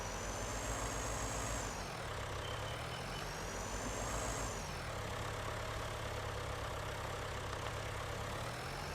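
A tractor engine in the Xtreme Survival farming survival game runs steadily and loudly throughout, its drone rising and falling in pitch as the throttle shifts, with no voices over it.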